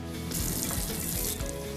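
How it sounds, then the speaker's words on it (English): Tap water pours into a Puritii filter bottle, a steady close splashing gush that fills the whole clip without any talk. "As you put your Puritii filter and bottle together and fill it"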